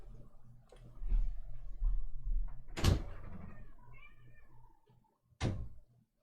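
A cat meows a few times near a door to be let in, interspersed with a couple of sharp door clicks and bumps, with quiet indoor background.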